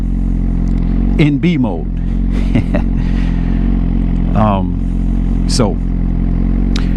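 A 2024 Suzuki GSX-R 1000 motorcycle engine drones steadily and loud while being ridden in its docile B mode, with wind rumble underneath and a rider talking over it.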